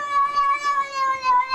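A cat meows in a talking cat meme, one sustained, wavering, tonal meow that stays loud and clear throughout with no other sounds.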